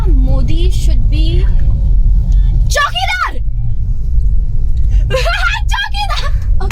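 Car engine rumbling steadily from inside the cabin while driving, a continuous low drone running under loud talking voices throughout.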